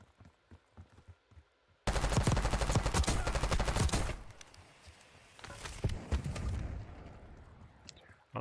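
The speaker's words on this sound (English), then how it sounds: "we have a squad over here that for some reason is shooting at each other." Automatic gunfire in Call of Duty Warzone, with a long loud rattling burst of rapid shots, then scattered bursts and pops further off, amid soft footsteps and faint voices.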